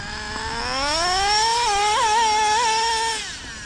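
A two-speed Traxxas Drag Slash RC drag car with a Castle 1100kv motor makes a high electric whine that rises steeply, wavers as second gear engages, then fades away.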